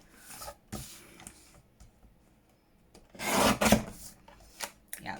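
A craft blade cuts through dry masterboard in close, rasping scrapes, a few short strokes early on, then a louder, longer rubbing cut and several brief scratches.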